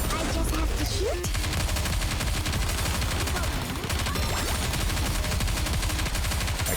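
Gunfire from shooting in the video game Goddess of Victory: Nikke comes as dense, rapid bursts of automatic shots that repeat continuously and stay loud throughout.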